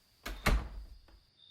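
A door shut in a reading of the parable of the ten virgins: two quick close thuds, the second heavier, followed by a faint softer knock as it settles.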